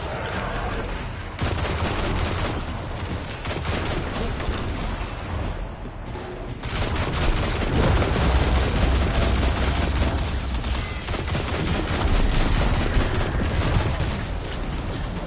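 Queensbreaker heavy weapon firing in Destiny 2, dense bursts of gunfire and booms running almost without pause, loud and close, easing briefly around the middle before intensifying again.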